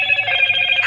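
A Motorola keypad mobile phone plays its power-on startup sound, a bright, close electronic melody of sustained tones that brightens as it finishes.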